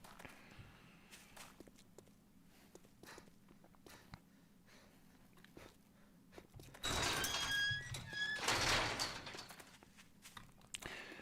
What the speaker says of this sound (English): My footsteps are not matching.